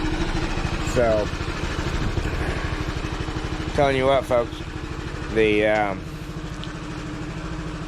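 A Honda Helix scooter with a newly changed thermostat idles steadily with a close, throbbing engine pulse, while someone talks over it throughout.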